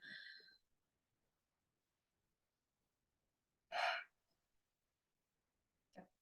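During a yoga breathing exercise, breath sounds come in short separate bursts: a soft airy breath at the start, then a louder sharp intake midway, and a brief faint breath at the end, with silence between.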